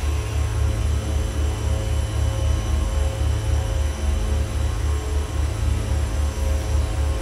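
Twin piston engines of a Beech Duke BE60 in FSX drone steadily and close, a loud, even low throbbing hum with a rhythmic pulsing beat running unbroken throughout, no voices.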